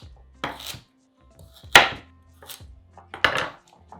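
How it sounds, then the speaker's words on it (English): A knife chops carrots on a board in three separate bursts of crisp, close thuds, each cluster of quick cuts followed by a pause, with no voices. "So all we're gonna do is we're just gonna chop these up."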